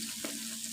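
Ground spice masala frying in a pan, giving off a brief, steady sizzle with soft crackles and a faint low hum, without any voices.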